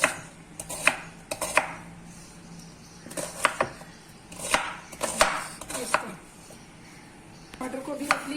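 A knife roughly chops onions and tomato on a board, sharp irregular thuds arriving in small clusters with pauses between, close and fairly crisp, with no one talking.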